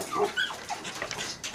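A dog at a dog kennel whimpers in a few high, thin whines, close and clear, with no talking over them.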